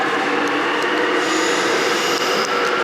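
A Seoul subway train runs at Gwanghwamun station, a steady loud rumble and rail roar filling the platform, with faint metallic squeals over the top.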